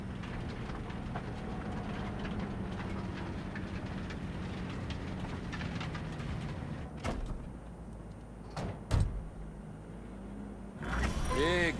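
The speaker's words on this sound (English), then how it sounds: "maybe we should just hijack the train" A train rolls along steadily in Cyberpunk 2077, a low continuous rumble with a few sharp clanks and knocks near the end, heard from inside a car.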